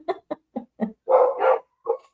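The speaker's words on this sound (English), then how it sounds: "They're barking at other dogs, and the little one makes me laugh" Dogs barking at other dogs, with a string of four short, sharp barks followed by a longer, louder double yelp and one final bark, close and clear with no talking.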